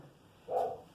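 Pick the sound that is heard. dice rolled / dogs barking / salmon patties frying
dogs barking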